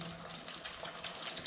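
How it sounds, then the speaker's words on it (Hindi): Raw chicken legs dipped briefly into water in a kitchen: a short, close splash and trickle of water, soft and steady, with no talking. "ये देखिए पानी में डिप किया"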